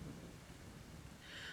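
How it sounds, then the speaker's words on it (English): A faint thunderstorm over Houston, Texas, with a soft steady wash of rain and a low rolling rumble of thunder, all distant and quiet. "I'm gonna put a little thunderstorm in the background so y'all can vibe with me"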